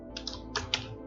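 Brief bursts of computer keyboard typing, a few keystrokes in quick clusters, close and clear over a faint steady hum.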